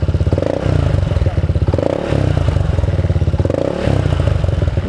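Honda ADV 160 scooter fitted with a Vamos V-map exhaust with no silencer, idling loud and close with a deep, throbbing beat that swells in periodic blips of throttle; no talking is heard over it.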